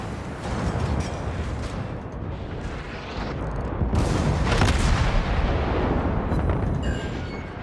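Warship naval guns boom in World of Warships, a dense, continuous rumbling barrage of heavy artillery fire and explosions, loud and sustained, with no pause.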